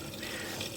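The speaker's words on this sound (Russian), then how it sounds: "Вот пошла вода" Water rushing into a washing machine drum at the start of a wash cycle, a steady faint hiss of filling liquid with no voices.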